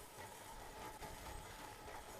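A tram rolls along rails in the video game Forge, a steady, fairly quiet rumble with faint rhythmic clacking and a thin metallic whine running throughout, with no voices.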